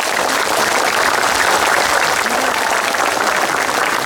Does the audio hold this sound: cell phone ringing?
no